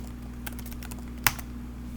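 Someone types on a computer keyboard: a few quiet, scattered keystrokes over a low steady hum, with one sharper, louder key tap partway through.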